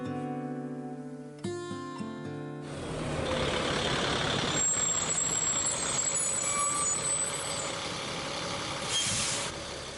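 A school bus engine idling loudly and close, with a string of beeps at the start and then a steady engine rumble broken by hissing air brakes.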